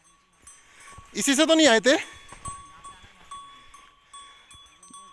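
A goat on a mountain trail lets out one loud, wavering bleat, followed by people talking quietly.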